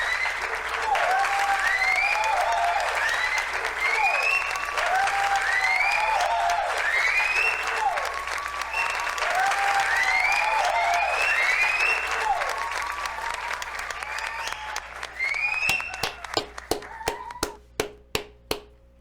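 Sustained crowd applause with repeated whistles and cheers, gradually thinning out until only a few scattered individual claps remain at the end.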